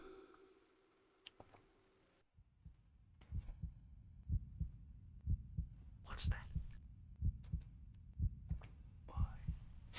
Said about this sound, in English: His heartbeat.